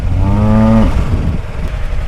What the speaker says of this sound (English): Cow, cow. Another cow.